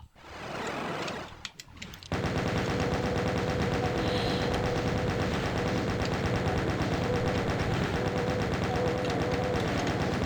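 Rapid, continuous automatic gunfire from a Doom map, relentless and loud after a brief opening burst, running steadily to the end without talking.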